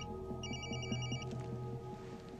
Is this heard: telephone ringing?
yes